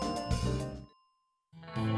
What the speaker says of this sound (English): Alright, let's ring the bell.